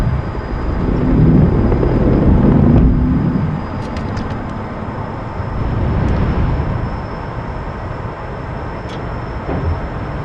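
An F-14B jet taking off in a flight simulator, a loud broad engine roar swelling early, then easing into a steady rushing drone as the aircraft climbs, with faint clicks of cockpit switches and no talk.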